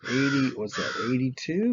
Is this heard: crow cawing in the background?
yes